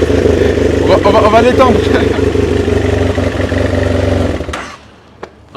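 A 2009 BMW F800S motorcycle engine runs loud and close, a steady throbbing drone with a slight rise in revs, under brief talk. It then drops away abruptly, leaving a couple of short faint knocks.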